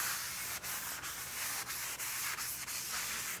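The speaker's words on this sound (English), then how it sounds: "And wipe it with a rag." A rag is rubbed over a rear brake caliper bracket from a 2007-2014 Cadillac Escalade in a series of about seven rhythmic, close, scratchy strokes, with no talking.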